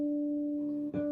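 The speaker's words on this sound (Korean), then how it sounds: "하모닉스라는 거는 이 줄이 이렇게 떨리지 않아도 소리가 나는 건데" A pure, bell-like bass guitar harmonic, played by lightly touching the string over a fret, rings steadily with a clean sustained tone, briefly disturbed by a soft pluck near the end.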